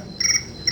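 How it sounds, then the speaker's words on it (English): Crickets chirp in a steady, high, shrill trill that carries on without a break for under a second. The sound is close and clear, with no voices over it. "Crickets chirping."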